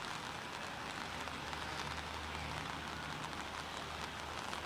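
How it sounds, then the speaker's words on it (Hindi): Light drizzle falling during monsoon weather in Rajasthan, a steady, dense, even patter of rain filling the whole stretch with no voices. "अभी रिमझिम बारिश आ रही है"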